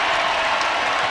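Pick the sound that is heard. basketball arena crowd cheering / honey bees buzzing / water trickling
basketball arena crowd cheering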